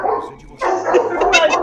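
Dogs bark close by in a quick flurry of sharp yaps and woofs, with a brief lull before a louder burst of overlapping barks.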